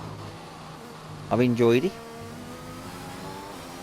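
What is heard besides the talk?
race car engine rumble in F1 2021 video game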